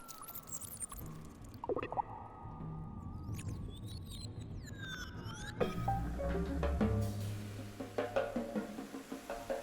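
Water flows steadily in the gentle puzzle game The Forest Quartet, a soft trickling wash laced with gliding chime-like tones, then swelling fuller and louder partway through with light clicks and knocks over the stream.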